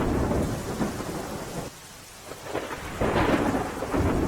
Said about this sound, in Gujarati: ગણદેવી અને આસપાસના ગામોમાં ધોધમાર વરસાદ પડ્યો